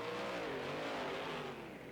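Monster trucks racing in BeamNG.drive at the Grand Forks stop, engines roaring loud and steady at high revs, with whining gear tones sweeping up and down as several trucks charge together toward the first turn.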